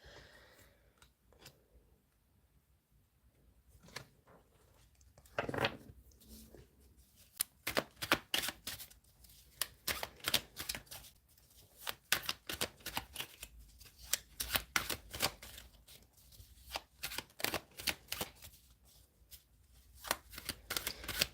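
Tarot cards shuffled by hand in a quiet room, a long run of crisp riffling flutters and taps that repeats in rapid bursts with short pauses, close and clear with no talking.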